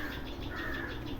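Sparrows chirp to a fledgling, urging it to fly, in a quick run of bright repeated calls at moderate distance over faint background hiss.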